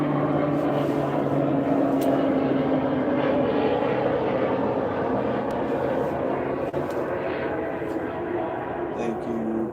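A propeller airplane flies overhead near an airport, a steady broad engine rumble that fills the whole stretch at moderate volume and fades slightly toward the end.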